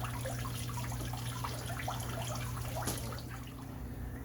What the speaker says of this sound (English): I'm going to go ahead and flush some water through here